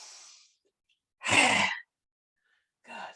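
A loud, close lion's breath exhale from a yoga practice, rasping hard in the throat with the tongue out, followed by a softer breath a moment later.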